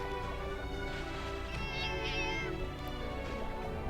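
In Monster Hunter Generations, a Prowler cat meows in drawn-out, plaintive calls over a dense, steady backdrop of game music.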